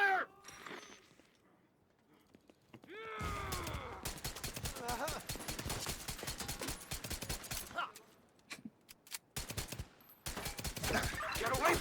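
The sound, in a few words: gunfire in a video game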